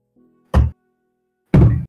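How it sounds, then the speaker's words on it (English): A very large water bottle is set down twice on a hard surface, two close, heavy thuds about a second apart, with a faint hum before the first. "I put my very big bottle of water down"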